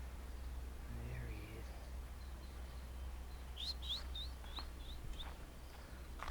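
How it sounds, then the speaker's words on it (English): A crow calls from up high outdoors, a short series of five or six sharp, evenly spaced cries over a low steady background hum, fairly faint and distant. "it's a crow, they're called kalasu"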